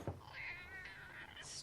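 A cat in a house gives a single drawn-out, wavering meow lasting over a second, close and fairly quiet, with a brief low thud just before it.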